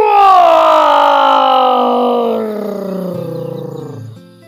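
A voice imitates a big, loud lion roar in one long, sustained growling cry that slowly drops in pitch and fades toward the end, heard alone with no other sounds.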